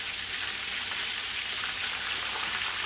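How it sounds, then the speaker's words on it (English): Striped bass caught from the Hudson River fry in a pan with oil, giving a steady, dense, close sizzle and crackle that continues without a break and with no talking. "I don't want to over fry them"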